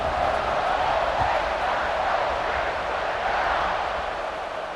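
Stadium crowd roaring at kickoff in the College Football 26 video game, LSU at Ohio State, a steady, dense wash of cheering voices held at a constant loud level throughout with no distinct speech.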